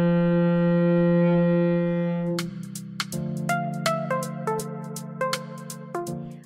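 A cello plays a single sustained note F, stopped with the second finger on the D string, held steady before shorter plucked or bowed notes follow, close and alone without voices.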